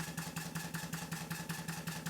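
An Allchin Royal Chester traction engine, a horizontal engine mounted on its boiler with geared drive, running steadily with a regular chuffing beat about four to five times a second, close and even.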